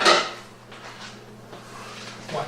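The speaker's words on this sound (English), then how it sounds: "So this plate back in the sink." A plate set down into a kitchen sink while cast iron cornbread is being made: a sharp ceramic clatter at the start, then quieter handling noises and a small knock near the end.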